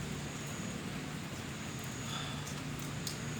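Rain falls steadily at a cemetery at night, a dense even hiss with soft low rumble and a few faint brief drips or taps, no voices.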